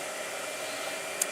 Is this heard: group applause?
no